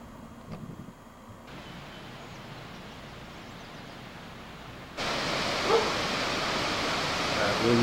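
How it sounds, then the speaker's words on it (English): Babbling brook beside a canyon road in the Rockies near Ogden, a steady broadband rush of flowing water that grows louder partway through, with a faint dog bark early on. "Babble, babble, babbling brook"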